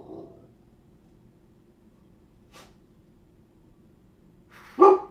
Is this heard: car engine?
no